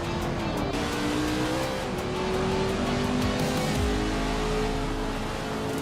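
A 1966 McLaren Elva Oldsmobile race car engine in a racing video game drones loudly and continuously, its pitch rising and shifting through gears, with a brief tire squeal near the end and no voices.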